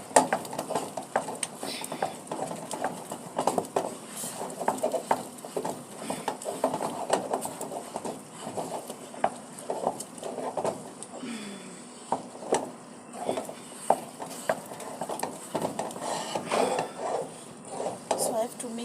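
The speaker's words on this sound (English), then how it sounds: "So I have to mix it well." Pap being stirred in a pot with a wooden stick, giving repeated scraping and knocking strokes close by in an irregular rhythm, at moderate loudness, with a steady low background hum throughout.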